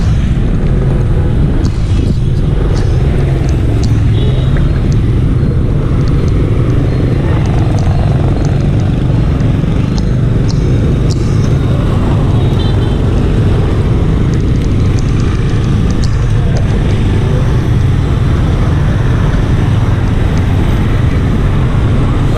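Busy road traffic in Vietnam, thick with motorbikes, makes a steady, dense engine drone and rumble that runs for the whole stretch, with a few brief higher-pitched bursts on top.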